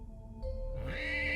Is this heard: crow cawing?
no